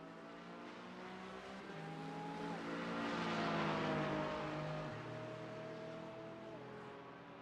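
Race cars at the Nürburgring 24 Hours on the Nordschleife sweep past one after another, engines rising then fading as they pass at a distance, with a gear-change pitch drop midway.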